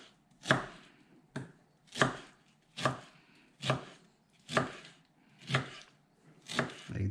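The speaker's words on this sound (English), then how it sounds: "So after that, you just slice it in small pieces." Knife chopping ripe pineapple into small pieces on a cutting board, eight firm evenly spaced thuds about one second apart, close and clear with no talking.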